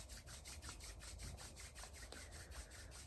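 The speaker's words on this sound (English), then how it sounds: "I invite you to rub your hands together right now." Hands rub together in quick, rhythmic strokes of soft, faint friction during a quiet meditation, each pass a brushing swish in a steady back-and-forth pattern.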